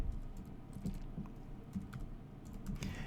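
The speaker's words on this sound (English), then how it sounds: "In the little search bar, I typed in Photoshop." Someone types on a computer keyboard into a search bar, with quiet clicking keystrokes in short irregular bursts over a low room hum.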